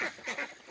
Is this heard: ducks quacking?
yes